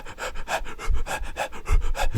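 A dog pants into a phone, quick rhythmic breathy huffs repeating about every quarter second, close and fairly loud, with no one talking.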